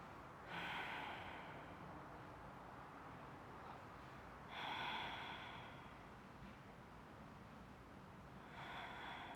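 Slow, deep breaths during a yoga pose, three long airy inhales or exhales spaced a few seconds apart, close and quiet over a faint background hiss.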